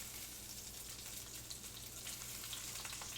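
Homemade meatballs searing in a pan, a steady soft crackling sizzle with scattered pops, close and unbroken with no voices.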